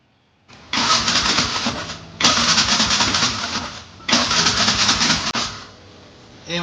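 A vehicle engine is cranked in three long bursts of rapid churning, each lasting over a second with short gaps between, loud and close, never catching or settling into an idle.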